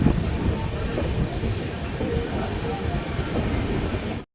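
Golconda Express passenger train running on rails, a loud continuous rumble and rattle of wheels and carriages with faint clatter, steady throughout before cutting off abruptly.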